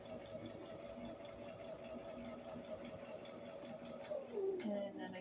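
A sewing machine stitches a wool diaper cover, humming steadily and close throughout, with the motor pitch dropping as it slows near the end; a voice speaks over it.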